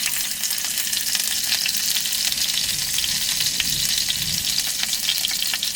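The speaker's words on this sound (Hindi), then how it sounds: "अब ऑयल हमारा गर्म हो चुका है तो अब इसमें भाई हम हरी मिर्च डाल देते हैं।" Green chilies dropped into hot oil in a pan over an outdoor jungle campfire, a steady bright crackling sizzle, close and even with no voices.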